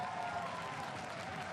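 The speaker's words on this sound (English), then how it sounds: "You can hear that the crowd is pretty hyped for this final game." An esports arena crowd at a League of Legends EU LCS match cheers and applauds in a continuous, dense wash of clapping and voices, steady and moderately distant.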